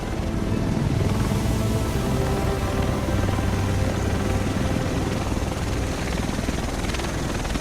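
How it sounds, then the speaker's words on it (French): A helicopter arrives in The Division video game, its rotor and engine giving a loud, close, continuous throbbing roar that stays steady throughout without voices. "Le reste de l'équipe devrait être dans cet hélico."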